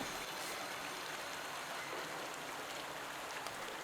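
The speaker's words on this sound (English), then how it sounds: "So the water's filling up." Steady rushing water pours in and fills a space in a video game, a dense, even hiss and trickle running unbroken from start to finish at moderate level with no voices.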